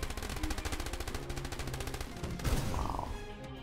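Jackal vehicles in Boom Beach pour rapid, continuous machine-gun fire on troopers, a dense rattling stream that runs the whole time, with a brief swell and a short rising tone near the end.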